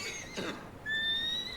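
A horse in Red Dead Redemption 2 lets out a loud, rising whinny after being struck, following a brief scuffing sound.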